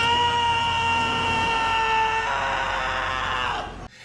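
A sustained, loud scream rings out for several seconds, steady and strained before shifting pitch and cutting off abruptly near the end.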